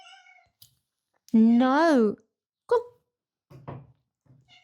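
A pet cat lets out a long, loud rising-and-falling meow, then shorter meows and mews follow, while someone speaks briefly in between.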